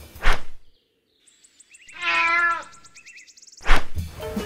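A cat meows twice, a rising and falling drawn-out call near the middle, with a brief clattering thump before and after, close and loud with no talk.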